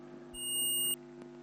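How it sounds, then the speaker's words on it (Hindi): With the probes reversed across a faulty transistor's shorted collector-emitter diode, a digital multimeter sounds one brief, bright continuity beep lasting about half a second. A steady low hum runs beneath it. "उल्टा भी इसका बीप आ रहा है यानी ख़राब है।"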